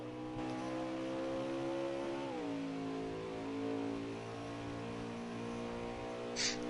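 A racing truck engine in NASCAR Heat 4 at Road America drones at high revs and shifts pitch partway through. A layered engine tone holds steady and loud, and a short hiss comes near the end.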